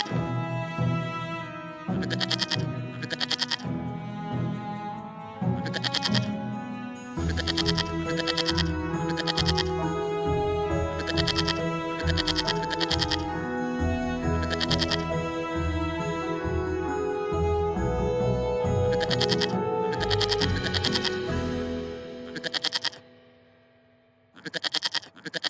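A herd of cartoon goats bleats repeatedly and loudly, with overlapping wavering cries coming in bursts throughout and only brief pauses near the end.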